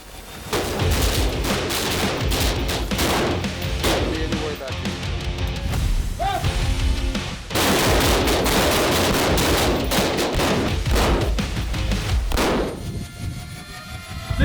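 Gunfire at a police SWAT team training range, dense repeated bursts and single shots ringing out loudly over most of the time, with short pauses between strings and faint metallic clangs.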